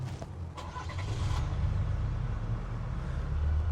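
A brand new 2025 truck's engine cranks and catches near the start, then settles into a steady, loud low rumble that carries on to the end, with no talk over it.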